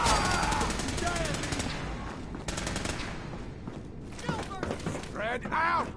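Gunfire in a video game: a steady loud wash of rapid shots, with voices and shouting breaking in over it near the end.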